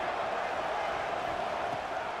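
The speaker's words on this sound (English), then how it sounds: "Crowd getting this defense whipped up on 3rd down." Stadium crowd in College Football 26 roaring on third down to rally the defense, a dense, steady wash of cheering heard throughout, with a commentator's voice faintly under it.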